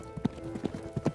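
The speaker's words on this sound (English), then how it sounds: "the sound of bridles tinkling and horses' hooves filling the air" Horses' hooves clip-clop in a quick, uneven rhythm of soft, muffled thuds, several riders passing at close range over a faint hum.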